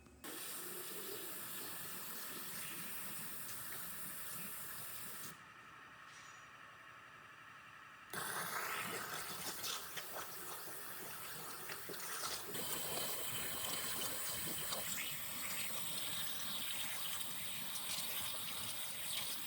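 Water jet spraying hard, a steady rushing gush that runs continuously, briefly dropping to a quieter hiss midway before surging back louder and rougher.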